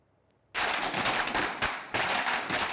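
A string of firecrackers set off in celebration bursts in after a brief quiet moment, a dense rapid crackle of loud pops running continuously to the end, close by.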